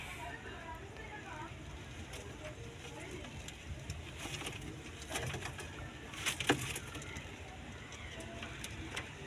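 A kondai crested pigeon coos softly in a village setting, its low calls faint under steady background noise, with passing traffic and a voice speaking intermittently.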